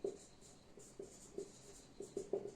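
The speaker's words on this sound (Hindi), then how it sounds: "यहीं पर लिखता हूं" Marker or chalk scratches on a board in quick strokes: short, faint scrapes and taps come in uneven bursts in a quiet room.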